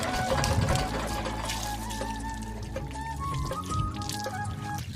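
Water being poured to fill a bath, a steady, close gush and trickle that keeps running the whole time, with a dense background of other sound under the flow.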